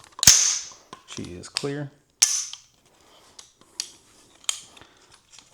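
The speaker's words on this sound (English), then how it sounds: "we're gonna clearance safe this weapon" Metallic clicks and sharp clacks of an AR rifle's action being worked by hand, several close, crisp mechanical snaps spaced over a few seconds, with a brief spoken voice.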